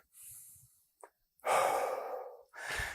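Heavy breathing during a workout: a few loud, breathy exhales and gasps close to the ear, separated by short pauses, with no talk.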